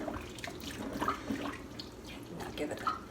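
Pasta water poured out into a kitchen sink, a continuous splashing gush of running water with small drips and clatter, a voice speaking now and then over it.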